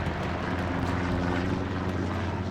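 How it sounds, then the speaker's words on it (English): Recon plane from the World War II game Hell Let Loose, passing over Utah Beach: a steady, droning propeller-engine rumble that holds evenly throughout without fading, with no speech. "recon plane going over."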